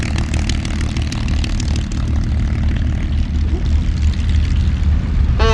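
A propeller aircraft takes off from the flight line at the 2024 Sywell Airshow, its engine a loud, continuous droning roar with the propeller's throb. A commentator's voice runs under the noise.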